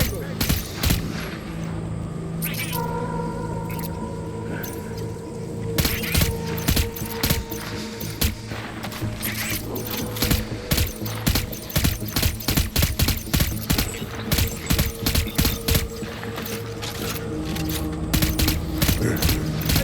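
Gunfire in Death Stranding, bursts of rapid shots and clattering mechanical noises over a steady droning background, with sharp repeated cracks intensifying in the second half.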